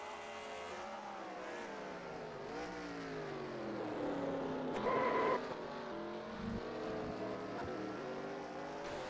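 A race car at Road America roars past with engine tones sweeping up and down through gear changes, a loud rising passage midway, steady and close with no talking.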